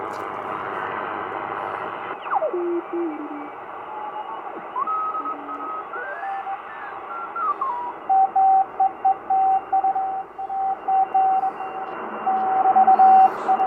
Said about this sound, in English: If you can decode Morse, there you have it